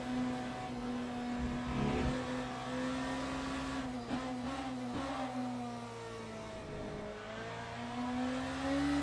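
The number 8 Toyota race car rolls back toward the pit lane after a spin at Fuji, its engine a steady mid-pitched drone at a moderate distance with slight swells and dips and no talk over it.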